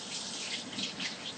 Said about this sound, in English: I'll wash my hands real quick